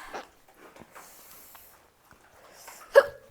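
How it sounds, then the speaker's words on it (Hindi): A few short hiccups from someone who has just eaten an extremely spicy chip, sparse and soft with one sharper jolt near the end, in a quiet room. "उनको तो हिचकी भी शुरू हो गई।"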